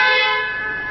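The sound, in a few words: car horn being sounded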